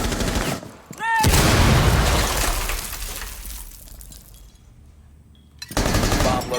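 Gunfire in the competitive video game Rainbow Six Siege during an Xbox league playoff match: loud bursts of shots with sharp transients, a dense volley early and another burst near the end, with quieter game ambience between.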